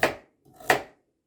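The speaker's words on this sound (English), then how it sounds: "I'm also gonna chop some carrots" Carrots being chopped into small pieces with a knife on a cutting board, two crisp, separate thunks a moment apart, close and clear with no voices.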